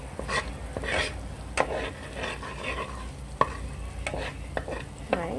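A spoon stirs curried crab in a pan, giving repeated scraping and clinking strokes over a low, steady cooking sizzle, close and at moderate volume with no talking.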